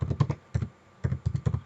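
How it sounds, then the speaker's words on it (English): Bursts of computer keyboard typing, quick clusters of close, crisp key taps separated by short pauses, with no voices. "I'm typing start RMI"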